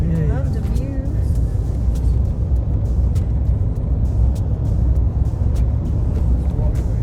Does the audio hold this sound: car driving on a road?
yes